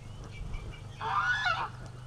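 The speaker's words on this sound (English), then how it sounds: "Okay, the Muscovies are fighting now." Muscovy ducks fighting, a burst of harsh honking, hissing squawks rising over a low background hum, loud and close for about half a second before fading.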